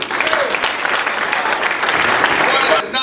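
An audience at a comedy magic show applauds comedian Bob Carroll with steady, dense clapping that fills the room for about three seconds before stopping abruptly.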